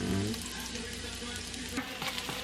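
Chopped onion frying in a pan on a home stove, a steady close sizzle and crackle that runs the whole time with faint clinks of stirring.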